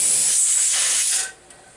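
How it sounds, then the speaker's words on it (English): Steam from the vent of a pressure canner hisses in a loud, steady rush that cuts off sharply, leaving quiet room tone with a brief faint tap. "we have a steady flow of steam"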